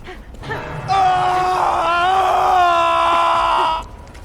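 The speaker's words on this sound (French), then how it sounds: "il hurle dans les oreilles" A character screams in the video game Dead by Daylight, a loud, sustained, strained scream lasting about three seconds, close and piercing, with a brief murmur of speech before it.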